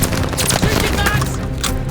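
MG-42 machine gun in Call of Duty Vanguard, firing from a tower in a loud, dense burst of continuous automatic fire with explosive booms, all under shouted soldier voices.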